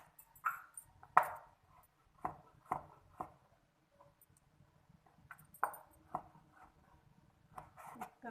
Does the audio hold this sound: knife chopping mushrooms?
yes